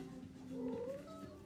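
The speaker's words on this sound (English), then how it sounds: "this pet yowls when you put it behind a locked door" A cat yowls alone behind a locked door, a short drawn-out rising and wavering cry heard fairly faintly with a little room noise.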